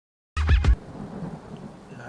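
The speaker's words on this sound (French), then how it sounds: "Tempête empêchant toute sortie, l'équipe devra attendre une accalmie." A sharp crack of thunder bursts out with a loud rumble, then fades into a steady wash of rain and wind noise during a storm.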